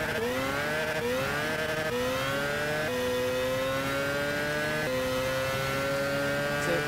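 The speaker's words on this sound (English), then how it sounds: "So this is one heck of a Formula car. Designed by Gran Turismo, and it does not exist in real life." A Gran Turismo-designed Formula race car, a fictional machine, revs hard through a series of upshifts, its high whining engine note climbing then dropping with each gear change, loud and continuous with no talking.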